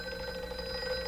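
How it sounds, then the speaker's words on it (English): A telephone bell rings briefly and steadily as a 1947 radio-drama sound effect: a single short, bright electric ring, clear and alone. "At last, one night, my phone rang."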